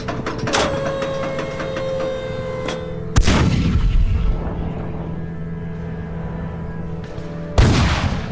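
New Zealand artillery fires during the Battle of Kapyong, two heavy booms a few seconds apart rolling out over a sustained droning background.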